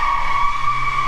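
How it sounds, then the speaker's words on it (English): Car tires squeal in a steady, sustained skid somewhere nearby on a New Zealand street, a high whining tone holding level throughout. "Someone's pulling a skid."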